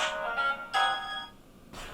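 A phone ringtone plays in a room as a repeating electronic melodic pattern, moderately quiet and close, with no one talking over it.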